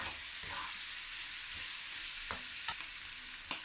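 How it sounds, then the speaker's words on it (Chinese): Zhajiang noodle sauce with dark soy sauce bubbles and sizzles as it is stir-fried in a wok until thick, with a constant frying hiss and a few brief spatula scrapes near the end. "炒至汤汁浓稠"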